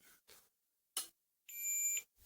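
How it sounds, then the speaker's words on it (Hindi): A multimeter giving a continuity beep while a household clothes iron is being repaired: a sustained high electronic tone of about half a second, preceded by a few soft clicks and handling noises. "मल्टीमीटर ने बीप देना स्टार्ट कर दिया"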